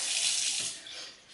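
Water running steadily from a tap into a vessel, a close, continuous splashing rush that eases off toward the end, measured out for cooking gluten-free grains.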